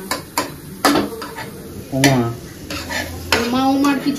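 Onions stirred and frying in butter for a paneer butter masala, with a spoon scraping and clinking against the pan in several sharp strokes over a steady low sizzle, and a voice briefly heard between the stirs.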